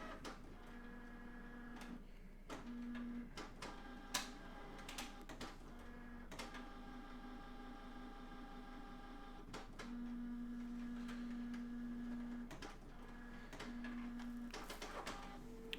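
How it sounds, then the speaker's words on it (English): A printer runs at length in a quiet room, a faint sustained mechanical hum with repeated tonal whines and scattered sharp clicks and ticks as the print head and paper feed move. "This printer's still going."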